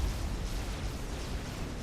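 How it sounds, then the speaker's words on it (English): Dense, rumbling explosions fill a battle in the real-time strategy game Supreme Commander: Forged Alliance, a continuous low booming wash with no distinct individual blasts and no voices. "everything around here is finally dying thanks to those explosions there"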